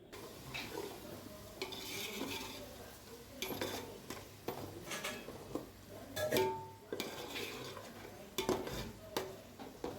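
Tomatoes frying in a pan with salt, turmeric and chili for a chicken fry piece biryani masala: a faint sizzle under irregular spatula scrapes and metallic clinks against the pan.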